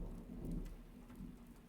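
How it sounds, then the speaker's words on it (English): Steady rain with low rumbling thunder from a storm, a continuous wash of downpour and deep rolls swelling and easing throughout, with no voices. "But it will be some time before the storm passes."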